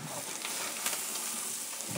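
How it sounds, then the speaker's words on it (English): Red peppers and onions frying in a pan give off a steady, close, even sizzle and hiss with small crackles and no talking. "So peppers have been cooking about 3 or 4 minutes"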